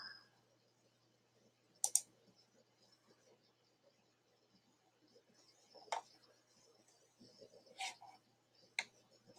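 A few sharp, isolated mouse clicks spaced several seconds apart on a quiet computer desk, close and crisp against near silence.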